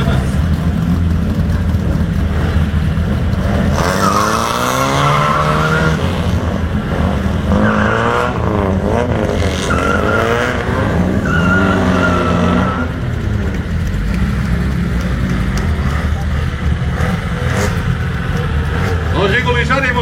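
A Volga race car at a racing event skids with tires squealing, a loud wavering screech rising and falling over steady engine roar, with a commentator talking throughout.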